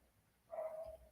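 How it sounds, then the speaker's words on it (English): A little dog barks alongside another dog, a short yelp rising over a quiet room background, moderately close and alone. "Oh, and a little dog."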